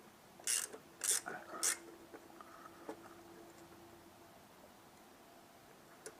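Three quick ratcheting clicks ring out as a part on a Peugeot 309 XU injection pump is tightened, followed by faint metallic ticks and light handling noises in a quiet workshop.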